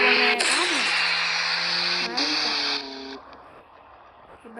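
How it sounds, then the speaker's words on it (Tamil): A vehicle engine running at close range, a loud steady drone with shifting tonal whines and a revving surge before dropping to a quieter idle, with a voice talking over it. "வண்டி ஸ்டார்ட் ஆகுது"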